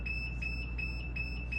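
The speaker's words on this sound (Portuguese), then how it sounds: "Aqui ele já está alarmando" An N20K48 temperature controller alarm beeps in a steady rapid pulse of high electronic tones, repeating evenly over a low background hum.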